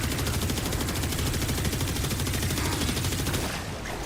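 Sustained rapid gunfire from the video game Warframe, a dense continuous rattle of automatic shots that stays loud and steady for several seconds before easing slightly at the end, with no talking.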